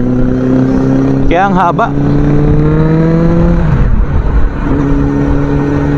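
A Suzuki Bandit 650 motorcycle engine idles steadily and then revs briefly in a quick wavering burst before settling back to idle, loud and close, while someone talks over it.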